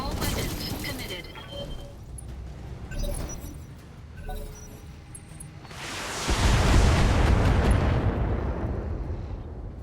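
Mech unleashing all its weapons at once in BattleTech: mechanical clanks and rattling shots build into a loud, sustained roar of explosions and launches over the last few seconds, with a voice talking during the early part.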